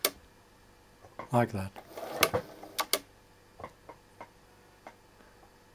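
A Bernina 910 sewing machine whirs in a short mechanical burst and halts with its needle-stop system, followed by a few scattered clicks and ticks, with a voice speaking briefly over it.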